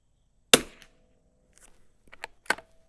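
A vintage rifle fitted with a scope fires one sharp, loud shot at the range with a brief decay, followed by quieter handling clicks and then a second crisp report nearby.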